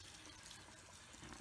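Tap water running steadily into a sink to wet a washcloth, a constant close splashing rush with no talking.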